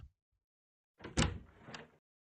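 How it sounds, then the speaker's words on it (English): Door opening in the visual novel Chaos;Child: a single close mechanical sliding-door sound with a sharp click at the start, a rolling middle and a second click as it finishes, set against silence. "But then the sound of the door opening cut her off."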